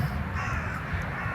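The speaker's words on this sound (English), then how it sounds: "Hello, Crow." A crow caws once or twice nearby, a harsh call over a steady outdoor background hum.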